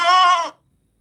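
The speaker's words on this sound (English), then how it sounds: "And there's a goat." A single goat bleat in a video game, a loud, close, wavering cry that cuts off abruptly and leaves silence.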